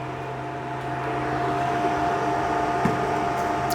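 A gas stove burner running under an empty pot in a home kitchen, giving a steady low roar and hiss that holds evenly throughout, with a faint tonal hum and a soft clink near the end.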